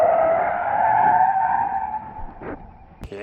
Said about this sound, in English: We'll come up for a little skid test here.